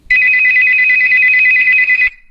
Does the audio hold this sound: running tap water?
no